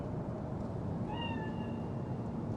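A cat meows once in a rising, wavering call inside the Cyberpunk 2077 video game, heard over a steady low ambient hum.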